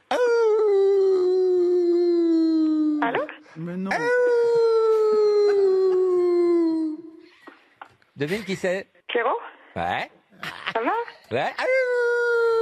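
A voice imitates a long wolf howl over the phone, two sustained wavering howls, followed by quick spoken back-and-forth between voices before another howl starts.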